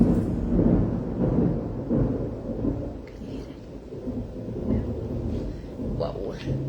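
Deep, rolling thunder from a tropical lightning storm rumbles on and off, loud and low, with rain and a voice faintly present.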